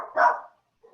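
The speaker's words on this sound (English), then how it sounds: "Sorry, my dog." A single short, loud bark from a pet dog sounds close by, followed by a faint, brief whimper-like trailing sound.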